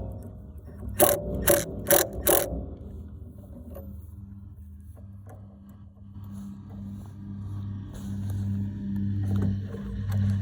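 Jump wire connections on an electric fencer are tightened, giving four quick, close ratcheting clicks in a row, then a low steady hum with faint rattles and shuffling.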